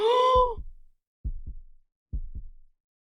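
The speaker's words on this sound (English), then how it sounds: "The intensity of her heart beating started to overwhelm her." Game heartbeat effect, slow paired thumps repeating about every second, preceded by a brief tonal groan-like swell at the start, heard alone.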